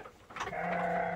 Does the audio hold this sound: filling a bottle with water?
no